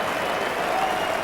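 A cricket crowd applauds as an England batsman reaches his first century against Australia, steady dense clapping and cheering filling the whole moment, broad and continuous.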